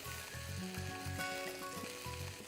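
Vegetables for a vegetable korma sizzle gently in a pan, a soft steady frying hiss with a few light clinks, close and fairly quiet.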